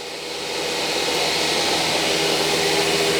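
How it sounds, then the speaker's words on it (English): An automatic labeling machine runs as it measures a drill tool, its motor whir rising over the first half-second and then holding a loud, steady, airy hum to the end. "The machine will go measure the driller"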